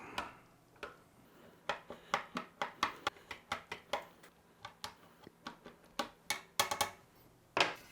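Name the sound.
breaking up patrol ration food in its packet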